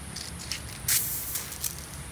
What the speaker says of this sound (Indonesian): Ini adalah cairan kalsium teman-teman yang saya semprotkan ke batang dan daun termasuk buah seminggu sekali